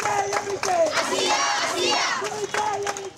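Students protesting outside the Chief Judicial Court in Magura, Bangladesh, a crowd of voices chanting slogans in loud rhythmic bursts, close and continuous.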